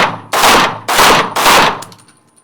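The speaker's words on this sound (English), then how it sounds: "I'm going to keep those shots tight on the A zone while moving towards the target." Three loud, sharp gunshots in quick, evenly spaced succession, each ringing briefly before the next, fired by a shooter moving toward a target while aiming at the A zone; the echo fades out after the last shot.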